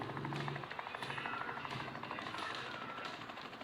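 A helicopter drones steadily with rhythmic rotor thumping, sounding fairly distant under continuous background noise, with no talking.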